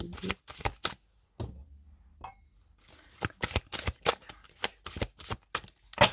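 A deck of tarot cards is shuffled and cut in a quiet room, giving repeated short bursts of crisp riffling and slapping with brief pauses between them.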